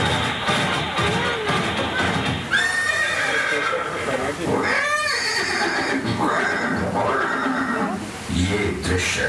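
Chetak, Maharana Pratap's horse, whinnies several times in shrill rising calls, heard over a busy crowd murmur with hooves clip-clopping and people talking in the background.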